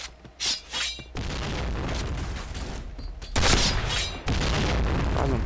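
A bomb blast in the Point Blank video game goes off as a loud booming burst, set among repeated explosive bangs and gunfire-like bursts with sustained roaring noise between them.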